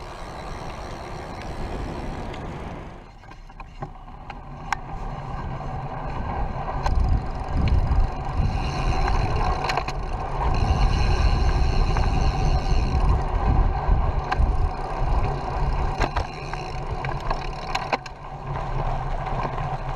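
Belt-drive electric bike with a Bionic motor system running at assist level 4 while pedaled, a quiet low hum and rolling noise that swells steadily after a brief lull, with faint rattles and clicks on top.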